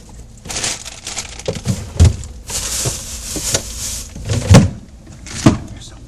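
Kitchen drawers slide open and shut in a quick series of knocks and bumps, several close clattering thuds spread over a few seconds with faint rummaging between them.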